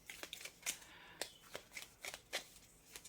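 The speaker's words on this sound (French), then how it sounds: "Je vais sortir une deuxième carte ici" Tarot cards being shuffled and drawn, soft papery slides and flicks arriving in irregular bursts, close and quiet with no talking.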